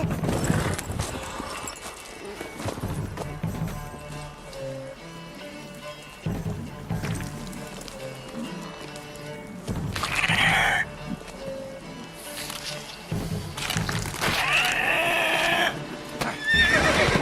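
Horse hooves clip-clop steadily through a busy scene in The Witcher 3, joined by occasional whinnies and bleating animal calls over dense background sound and music.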